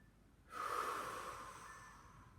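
Deep diaphragmatic breathing during a yoga stretch: one long, forceful breath with a sudden start that slowly fades over about two seconds, close and alone.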